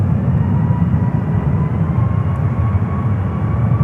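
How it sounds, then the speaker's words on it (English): An Embraer E-Jet takes off at San Francisco International Airport. A loud, continuous engine roar with a broad rumble holds steady throughout, heard from a distance. "an E-Jet is taking off"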